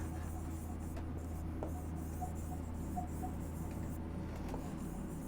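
Chalk or marker scratches on a classroom board, faint short strokes beneath a steady hum, with no voice over them.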